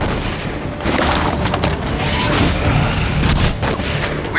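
Heavy incoming artillery in the Battlefield 2: Modern Combat game on PS2 booms continuously, loud rumbling blasts layered over a chaotic battlefield din with scattered sharp cracks.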